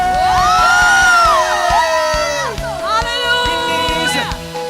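A church revival crowd screams, cheers and whoops in a loud, sustained roar, with high voices rising and falling together and clapping-like pulses underneath.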